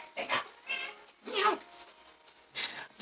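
A pet cat meows close by indoors, a few short separate cries with quiet gaps between them and no talking.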